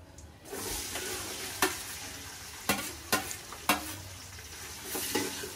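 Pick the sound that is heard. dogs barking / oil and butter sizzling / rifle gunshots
oil and butter sizzling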